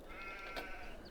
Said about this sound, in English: We've got 120 sheep.